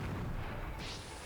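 Will-o'-the-wisp enemy blowing up in the Xanadu Next video game, a dull booming burst with a brighter hiss rising midway, loud and continuous for just over a second with no talk.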